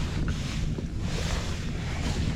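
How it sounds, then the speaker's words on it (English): A fishing boat trolls for striper through choppy boat wake, with a steady low rumble of hull and water slapping plus wind buffeting, constant and fairly loud. "Got a little bit of boat wake here."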